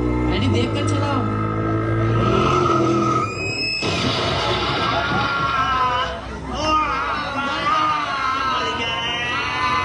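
Car tyres skid in a staged skit sound effect, a loud sustained screech over dense crowd babble and chatter.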